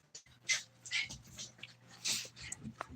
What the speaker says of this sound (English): The dogs are all happy